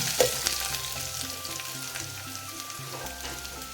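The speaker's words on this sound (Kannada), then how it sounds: "1 ಒಣ ಮೆಣಸಿನ್ಕಾಯಿ ಹಾಕ್ತಾ ಇದ್ದೀನಿ" Dried red chilli, chopped garlic and fennel seeds sizzle in hot oil in a pan, a steady close crackling fry with a few sharper pops, continuing without speech.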